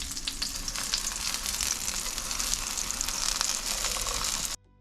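Eggplant slices frying in oil in a pan, a dense steady sizzle with crackling pops, close and continuous until it stops abruptly.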